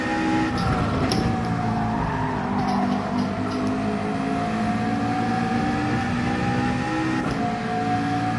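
A McLaren race car screams through a racing video game, its engine note loud and sustained as it revs and shifts, with brief tire skids over the continuous drone.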